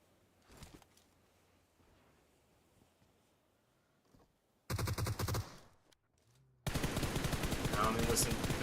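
Gunfire in a competitive esports video game match: faint shots early, then a loud burst of rapid automatic fire, a pause, and another dense sustained volley with a voice talking underneath.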